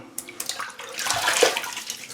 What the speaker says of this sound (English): So let me wet the face.